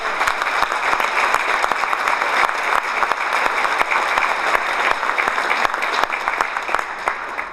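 Sustained audience applause fills an awards ceremony hall for the 2011 Canadian Motorsport Hall of Fame, steady dense clapping from a large crowd lasting throughout, with no voices over it.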